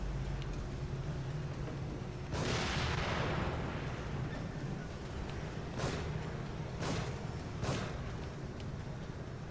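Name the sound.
gunshots from The Evil Within video game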